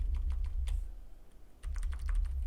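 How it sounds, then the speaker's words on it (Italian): A few separate key presses on a computer keyboard's arrow keys, clicking close and in an uneven rhythm, with a short pause and then another quick cluster of taps. "attraverso i pulsanti con le frecce della tastiera andiamo a modificare la posizione"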